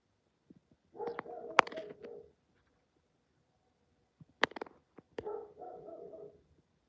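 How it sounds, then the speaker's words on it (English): A neighbor's dog barks in two short bursts of a few yaps each, fairly faint and somewhat distant, with a quiet pause between them and no talk. "It's my neighbor's dog."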